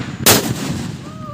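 A single sharp blast from a homemade country firecracker, loud and close, bursting broadband then fading into a short rumbling tail and quiet background.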